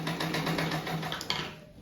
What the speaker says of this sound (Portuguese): Daí começa a costura aqui.